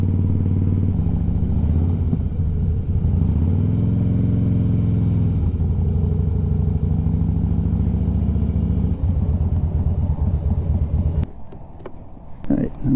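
A 15-year-old Harley-Davidson motorcycle rumbles loud and close for about eleven seconds, its engine note rising and settling with revs, then drops away as the ride ends.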